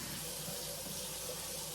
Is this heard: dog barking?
no